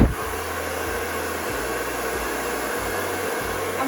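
A hair dryer blows steadily and loudly at close range while frizzy hair is dried smooth with a round brush, a constant airy roar with faint intermittent low thumps of handling.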